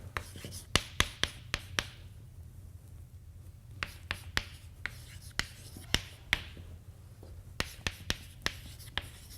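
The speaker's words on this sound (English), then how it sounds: "let me try to write this out now" Chalk or marker tapping and scratching across a board in a classical mechanics lecture room, a quick rhythm of sharp ticks and short strokes with quiet gaps, moderately close and faint, with no voice over it.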